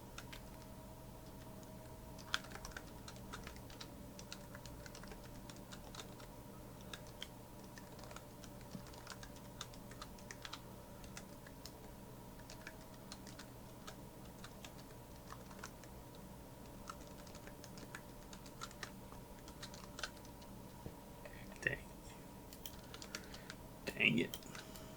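Faint, continuous typing of code on a computer keyboard, soft rapid key clicks over a constant low electrical hum, with a slightly louder burst of keystrokes near the end.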